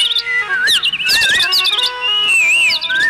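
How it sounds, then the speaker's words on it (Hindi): Birds chirp and whistle in trees, several warbling, sliding calls overlapping loudly and close by in a lively, continuous chorus with no talking. "इन पेड़ों पर चहकने वाले पंछी"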